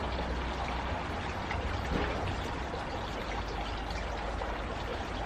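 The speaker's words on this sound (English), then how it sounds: "So Grandma, you can pour some water on here." Water is poured over pre-soaked LECA clay balls around a Tradescantia plant, making a continuous soft trickling and splashing stream at close range that stays fairly quiet and even throughout, with no voices.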